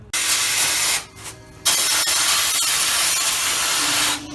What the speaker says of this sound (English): we're going to sandblast inside and out